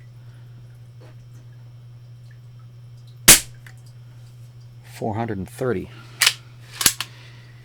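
A Diana 15 small spring-powered air gun fires once with a single sharp, loud crack, followed moments later by someone talking briefly.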